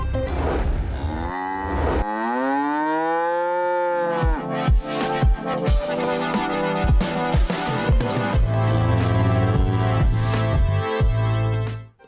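Water buffaloes lowing from pens in residential lanes of Lahore, long loud drawn-out moos overlapping one another, close by, with a busy clatter of animal and yard noise around them.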